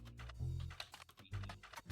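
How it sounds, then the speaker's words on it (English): Keyboard typing in the mystery game The Roottrees are Dead, a quick run of soft, close key clicks with brief pauses, quiet and without talk. "We type in S. Williams."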